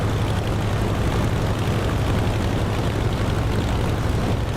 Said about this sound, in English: the engine's running